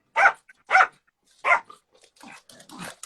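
Three sharp, close barks from a dog come in quick succession, then trail into softer, lower grumbling yips and muffled noises.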